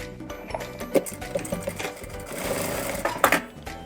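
A sewing machine stitches a bag in bursts of rapid mechanical chatter, with short pauses and a few clicks between runs, close and steady with no voices.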